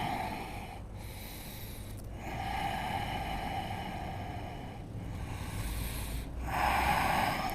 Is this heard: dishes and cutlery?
no